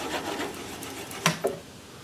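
A gouge parts off a wooden bowl on a spinning lathe, a steady rubbing scrape of tool on wood followed by two sharp clicks as the piece comes free.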